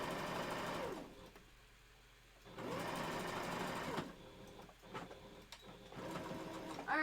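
Sewing machine stitching fabric for a wolf tail costume piece, with two loud runs of steady motor whir and rapid needle clatter separated by a pause filled with faint handling clicks, and a third run starting at the end.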